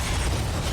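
A missile explodes in the video game Punishing: Gray Raven: a short, dense, loud blast with a rumbling low end that fills the whole moment and does not fade within it.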